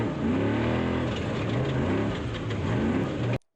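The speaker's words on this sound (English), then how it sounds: "This is going to be your first spec truck right here." A spec race truck in the Baja 1000 off-road race roars past with a steady, droning engine note that rises and dips through gear changes, loud and continuous before cutting off abruptly.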